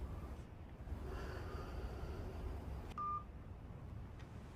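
A phone is dialed to call someone, with a short electronic tone standing out clearly once against a low, steady room hum.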